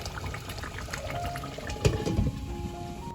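Chicken korma simmers and is stirred in a pot, a steady bubbling and sizzling hiss with a soft scrape and thump of the spoon near the middle, with no speech.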